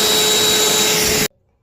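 A loud, steady vacuum cleaner roaring continuously while sucking up dust during DIY door knob work, then cutting off abruptly.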